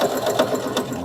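A sewing machine runs steadily throughout, a continuous close mechanical whir with a faint rhythmic stitching pulse and no voices.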